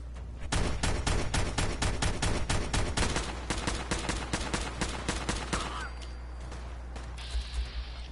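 Rapid automatic gunfire from Fallout 4 rattles in a dense, loud run of shots for several seconds, then gives way to scattered quieter shots and game ambience, with a voice talking.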